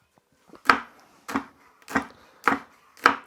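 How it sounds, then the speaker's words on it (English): A knife chops chilies on a wooden board in five sharp, evenly spaced knocks about half a second apart, close and clear, with near silence between strikes. "And we're going to finely chop these."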